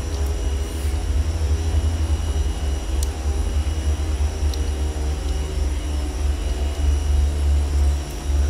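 Twin piston engines of a Beech Duke BE60 in a flight simulator, at Rockhampton's runway 15 on the takeoff roll, giving a steady, loud, deep drone with a constant low rumble throughout.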